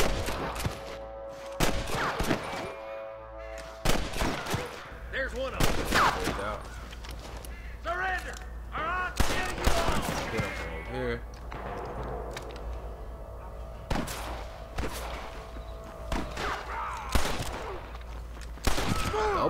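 A Red Dead Redemption shootout at Pike's Basin crackles with repeated gunshots and bursts of rapid fire, near and far, under frequent shouting voices.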